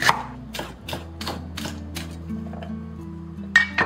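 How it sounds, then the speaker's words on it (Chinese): A kitchen knife chops vegetables into thin strips on a cutting board, likely garlic, ginger, red pepper, onion or celery, with a series of crisp, evenly spaced taps close up that slow and fade toward the end. "全部就给它切丝"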